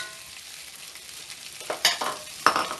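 Beef and broccoli frying in a cast iron pan give a faint, steady sizzle, broken by a few sharper scraping stirs near the end.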